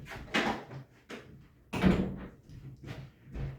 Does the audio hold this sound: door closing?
yes